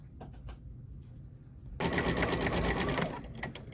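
An Exquisite ES 1146 embroidery machine stitches an acorn design, its needle tapping in a quick mechanical rhythm that suddenly surges louder and busier partway through, heard close up with no talking.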